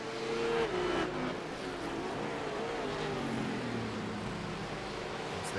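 Race cars in a sim racing game at the Motegi circuit, engines droning steadily close by with a falling pitch as they brake, layered with other cars and faint tire noise, no talk.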